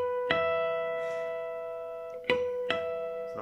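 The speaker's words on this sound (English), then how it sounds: "And to finish it off, harmonics at the 12th fret." Guitar harmonics struck at the 12th fret, a bell-like chime followed by two more ringing plucks later, each sustaining and slowly fading, played close and soft with no talk.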